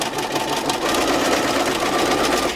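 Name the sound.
sewing machine stitching along a fabric edge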